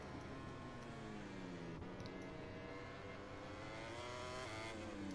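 Racing motorcycles in the video game MotoGP 21 scream through a pre-season test, several engine notes rising and falling together in a dense, continuous drone with shifting pitch sweeps.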